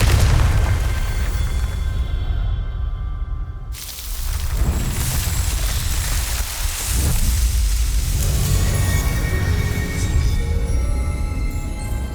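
A Confringo blasting spell from Hogwarts Legacy detonates in a heavy, rumbling explosion, with a deep booming roar and sustained crackling debris that swells again midway before fading into a lingering rumble.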